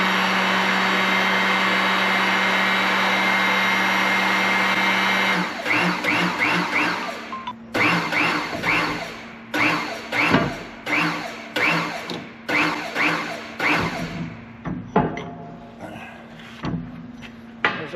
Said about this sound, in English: we'll press this pinion bearing out of the pinion bearing housing